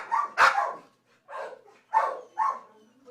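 Puppies at an animal sanctuary give four or five short, high yips and barks in quick bursts, loud and close, with brief silences between them.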